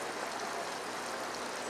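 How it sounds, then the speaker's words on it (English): Water flows steadily through a landscaped garden stream with a moss-lined overflow area and retention basin, giving an even, continuous rushing trickle close to the listener with no pauses and no speech. "So you can control the flow of water, slow down the speed of the water"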